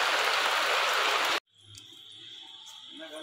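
Heavy rain pours in a loud, steady hiss, then cuts off abruptly partway through, giving way to a quieter indoor background with faint household sounds.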